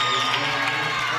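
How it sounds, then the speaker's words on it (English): Spectators at a junior powerlifting world championship cheer and roar steadily, a loud continuous wall of crowd voices and shouts close around the platform. "And the crowd loves it."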